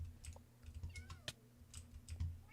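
A cat in the Minecraft video game gives several short, faint meows mixed with soft keyboard clicking and tapping, the quiet calls scattered across a low steady hum.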